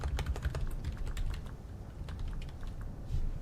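Rapid, uneven clatter of keys on a computer keyboard, close and fairly loud, with irregular bursts of keystrokes and no talking.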